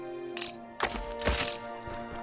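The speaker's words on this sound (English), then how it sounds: "trying out the shotgun" A shotgun fires in the action RPG Morbid, giving two dull, thumping blasts in quick succession over a steady background game drone.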